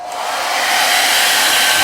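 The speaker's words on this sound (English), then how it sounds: "take blow dryer and I'm gonna heat this up real hot" A blow dryer runs on high heat, aimed at a tumbler to warm it, its steady airy whoosh rising in the first moment and then holding loud and constant throughout, with no voices.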